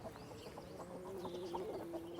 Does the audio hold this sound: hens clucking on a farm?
yes